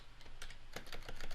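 Quick bursts of keystrokes on a wireless computer keyboard, a dozen or so close, crisp taps in an uneven rhythm over a quiet room.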